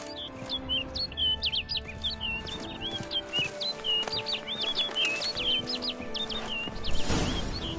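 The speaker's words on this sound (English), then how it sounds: "Looks like the bird's leading me somewhere." Birds chirp in the game The Witcher 3, quick repeated high tweets running steadily throughout over a soft ambient bed, with a brief louder rustle near the end.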